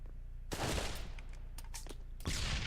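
AK rifle gunfire in the virtual-reality shooter Pavlov VR during a competitive championship match: two loud bursts of rapid automatic fire, the first longer with scattered lighter shots trailing after it, the second starting near the end.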